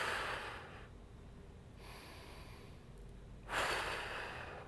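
Slow, deep breaths drawn during a thoracic spine mobility exercise for golfers, steady airy inhales and exhales that come in long swells, close and fairly quiet with no talking.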